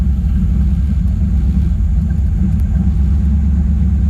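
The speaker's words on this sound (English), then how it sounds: "As the car idles, it just seems like it's moving everything around" A car engine idling roughly with a steady low rumble, heard up close for the whole stretch with no talking over it.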